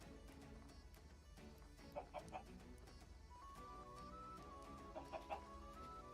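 Minecraft chickens cluck faintly in short clustered bursts twice, quiet beneath a steady low game background hum and a sustained tone, fairly distant.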